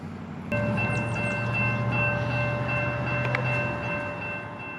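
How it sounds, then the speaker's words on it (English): Distant CSX locomotives approach with a steady low engine rumble and a sustained multi-tone horn that enters abruptly and holds, with brief higher squeals, on a calm outdoor morning. "I'd hear the faint sound of locomotives in the distance"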